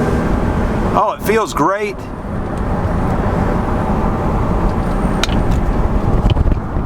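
A Porsche Cayenne S with a 4.5L V8 accelerates with the window down, a steady loud engine roar that builds under road noise, while someone speaks briefly near the start.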